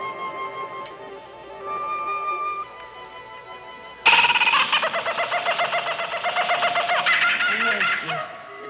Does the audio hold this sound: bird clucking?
yes